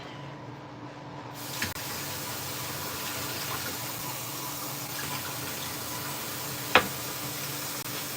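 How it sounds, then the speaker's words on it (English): Half a cup of water poured into cake mix in a tiny New York City kitchen: a steady, even rush of water lasting several seconds, with a sharp knock near the end. "we have to add cake mix, water, half a cup of water"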